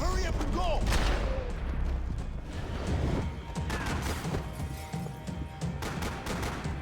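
Repeated shotgun blasts and gunfire in the video game Max Payne 3, dense and continuous, loud and close, with game effects layered throughout.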